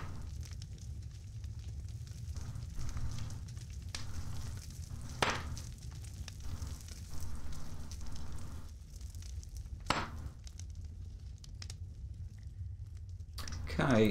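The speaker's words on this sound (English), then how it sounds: "Campfire can heat up while I'm doing this." A campfire in the video game Wurm Unlimited burns with a steady low crackle, broken by a few sharp pops spaced several seconds apart.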